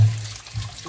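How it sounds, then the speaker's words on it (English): A short, soft splash of water as cucumbers, already soaked in vinegar, are rinsed in clean water, a brief trickle heard alone. "I'll also wash my cucumbers"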